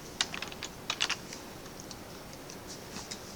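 Close computer keyboard typing during copy and paste shortcuts, with quick clusters of sharp key clicks that fade into sparser, lighter taps, no talking.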